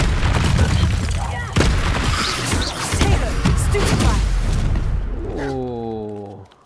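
Rapid bursts of spell blasts and booming magical explosions in Hogwarts Legacy combat, fire and blast spells like Incendio and Confringo, loud and dense, ending in a rising chiming tone as the action fades.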